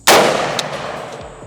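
A single loud, sharp crack from a 5.56 rifle with a full 16-inch barrel, fired into a fleshlight used as a makeshift suppressor, followed by a short ringing decay and faint clinks.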